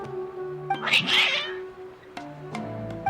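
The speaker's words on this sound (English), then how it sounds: "Your cats seem pretty worked up." Agitated cats in the video game Genshin Impact let out a loud, strained caterwaul, followed by shorter meows, over steady background game music.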